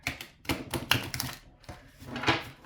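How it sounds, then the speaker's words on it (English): A deck of tarot cards is shuffled in quick, crisp bursts of flicking and riffling, close and fairly soft, with short pauses between the bursts and no talking. "please don't get irritated if I shuffle like shit"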